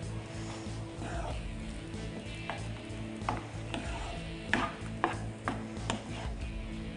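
Cooked rice being mixed by hand or spoon into gongura pulihora in a pot, giving close, irregular scraping and knocking strokes over a steady low hum, with a few sharper clicks near the end.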